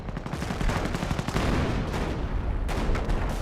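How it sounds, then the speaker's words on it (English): Artillery and gunfire in the World War II strategy game Company of Heroes, a dense, rumbling barrage of rapid blasts. It stays loud throughout, briefly dipping before surging again. "It seems like the artillery's been just saturating everything."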